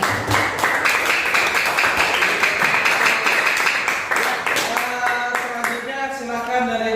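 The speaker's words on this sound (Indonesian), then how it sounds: "kita beri aplaus dulu kelompok 2" A classroom group claps for group 2 after its chemistry presentation on reaction rates, giving dense, steady applause that lasts several seconds and then thins out as a voice begins.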